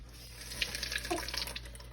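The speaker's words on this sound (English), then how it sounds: "So you take one, and run a little cold water over it so you don't burn your mouth." Cold tap water runs steadily over a cooked carrot in a home kitchen, a close, even splash with light spattering as the stream hits the carrot.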